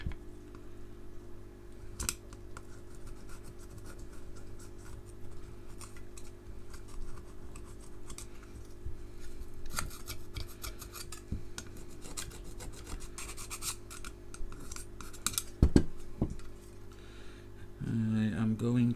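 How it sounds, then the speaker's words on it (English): An old rubber seal is scraped off the lens of a Hoover Junior Dirtsearcher vacuum with a tool, producing close, repeated rasping strokes over a low steady hum, with a few sharper knocks and brief speech. "The next thing I'm going to do is to scrape this rubber seal off, or what's remaining of it."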